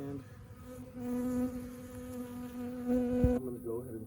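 Honeybees buzzing around open hives in a bee yard, a steady droning hum with individual bees passing close by, continuous and fairly loud with no talk.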